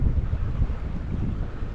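Strong wind buffets the microphone aboard a sailboat moving at a few knots, a loud, continuous low rumble with gusty swells and a faint wash of water underneath.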